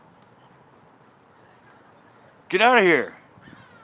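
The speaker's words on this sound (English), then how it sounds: "Friggin' seagull right here." A seagull near a fishing spot lets out one loud, harsh squawking call lasting about half a second. A low outdoor murmur runs underneath, with someone speaking briefly in the background.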